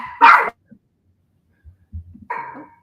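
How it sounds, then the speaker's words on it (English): A dog named Zoe lets out one loud, close bark at the start. A second, shorter bark follows after a quiet gap with faint low rustling, and no one speaks. "Zoe finding something to bark at."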